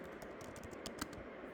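Typing on a computer keyboard, a quick run of soft clicking keystrokes with one louder tap near the end, close and steady, with no talking.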